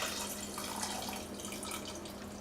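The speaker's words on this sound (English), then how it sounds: "And then I'm going to open these and add the liquids." Liquids from opened containers poured into a cooking pot for cioppino on a stovetop, a steady splashing, trickling pour with no gaps, close and fairly quiet.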